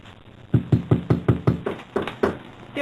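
Someone raps on a front door about a dozen times in a quick, even run of solid knocks, close and loud, with a brief pause before the last few.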